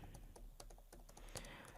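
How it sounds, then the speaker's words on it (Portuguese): Computer keyboard typing in quick, irregular keystrokes, close and fairly quiet, with one sharper clack near the end, entering text into surveying software. "Eu posso digitar aqui."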